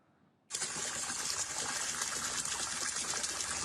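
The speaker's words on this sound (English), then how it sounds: "This is the water that is coming from the pipe." Water from a pipe at an illegal galamsey gold-mining site bursts on after a quiet moment and keeps gushing in a steady, loud, close rush.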